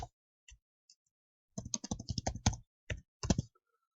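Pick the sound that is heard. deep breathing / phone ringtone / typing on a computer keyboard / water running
typing on a computer keyboard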